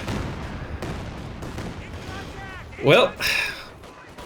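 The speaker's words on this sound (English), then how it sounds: "Did somebody want rocket artillery? You'll get rocket artillery." A rocket artillery salvo in the strategy game Company of Heroes 2, heard as two loud whooshing, whistling bursts close together late in the clip, over steady battle noise while a commentator talks.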